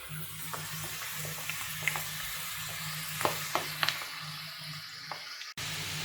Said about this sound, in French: Quand mon huile elle est bien chaude, je laisse à peine 3-4 minutes.